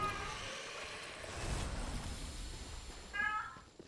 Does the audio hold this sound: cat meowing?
yes